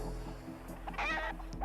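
A cartoon chicken clucks and squawks in a brief agitated burst, close and clear, with a couple of short clucks before and after over a low background hum.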